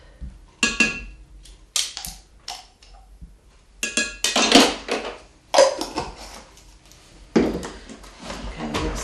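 Flour, packed brown sugar, salt and yeast being stirred in a bowl, heard as bursts of scraping and clattering utensil-on-bowl knocks separated by brief pauses, close and fairly loud, without speech.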